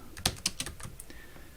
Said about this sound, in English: you can just use the shortcuts while you're typing